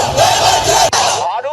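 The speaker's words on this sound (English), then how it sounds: "Outside the Armenian parliament in Yerevan, crowds gathered to protest against the renewed military operations" A crowd of protesters outside the Armenian parliament in Yerevan, loud massed shouting and chanting close by, sustained for a moment, then breaking off briefly before voices resume.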